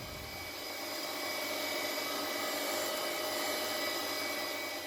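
A grinding machine finish-grinds the bed of an Emco lathe, a steady, loud broadband whir with a constant high whine that holds evenly throughout with no talk.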